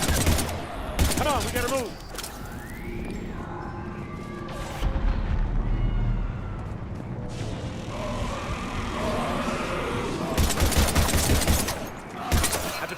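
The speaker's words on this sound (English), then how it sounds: "we're taking heavy fire" Heavy gunfire rattles through a Mass Effect 3 firefight, with repeated bursts and sharp shots stacking into a dense barrage that runs the whole length, near and loud, while voices shout over the combat.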